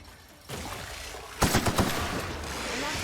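Several sharp gunshot bursts from a companion's weapon in the video game The Outer Worlds, clustered in quick succession over a steady background of game ambience.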